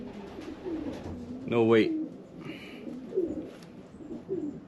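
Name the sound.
bird vocalizing while being held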